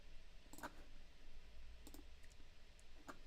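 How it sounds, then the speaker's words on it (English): Sparse keyboard typing during a live Carcassonne board game finals broadcast, with three short bursts of clicking keystrokes at moderate distance over a steady background hum. "He's typing something."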